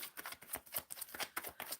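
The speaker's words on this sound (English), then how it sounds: "Shuffling for Anjana" Tarot cards being shuffled close up, a rapid, uneven run of soft riffling flutters and slaps, quiet and steady, with no talking.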